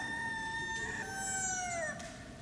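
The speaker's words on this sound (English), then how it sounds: "At that moment, the cock crowed for the second time." Rooster crowing during a staged Palm Sunday passion play, one long drawn-out cock-a-doodle-doo with a rising then falling tone, clear and fairly close over a faint room background.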